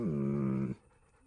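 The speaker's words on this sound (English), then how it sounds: "There's the good doggy." A dog in the video game Kingdom Come Deliverance gives a short, close whining vocal lasting under a second, then quiet.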